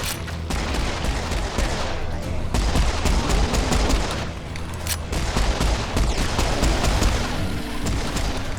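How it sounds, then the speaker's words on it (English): Dual pistols firing rapidly in the shooter game Serious Sam 4, loud, dense bursts of shots running continuously with heavy booming impacts and battle noise throughout. "I still want to try and make the dual pistols work here"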